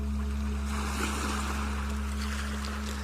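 Ocean waves on a seashore wash continuously in a soft, even roar with a low steady hum underneath, with no voices.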